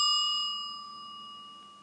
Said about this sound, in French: Ça se jouera au gong.